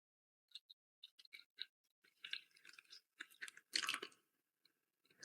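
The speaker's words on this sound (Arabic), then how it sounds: "اكو ياكل مع ناصر" A pet parrot named Eko eats bread with egg, making quiet, sporadic crunchy nibbling and biting clicks up close, with short bursts and pauses between them.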